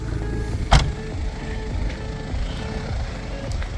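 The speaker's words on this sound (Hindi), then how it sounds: "जबार गाड़ी पार्क करने लगा है।" A car is parked at Cobh, its engine idling steadily close by, with a sharp thump early on and a few faint mechanical whirs as it settles into the space.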